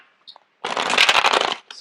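A deck of tarot cards riffled in one quick burst of papery flutter after a faint tap, close and fairly loud, then a short follow-up rustle, no talking.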